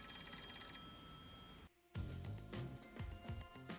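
A phone rings in the video game MDA: Rain Code, with an electronic tone over a steady background score that cuts out briefly and then returns.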